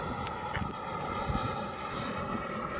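A Hangar 9 Hawk RC model jet comes in to land, its turbine giving a steady, droning whine with a broad rushing roar underneath that holds evenly throughout, and no voices.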